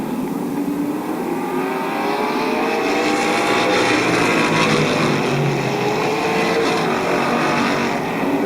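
Race cars roar around the oval at Barberton Raceway Park, several engines droning loud and continuous with rising and falling pitch as they pass and jostle for position.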